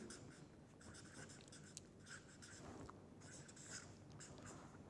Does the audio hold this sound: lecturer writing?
yes